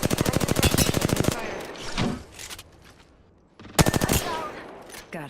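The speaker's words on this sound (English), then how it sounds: "They're shooting at me." Rapid automatic gunfire in a shooter video game, two loud close bursts of fast evenly spaced shots separated by a quieter gap with scattered clanks.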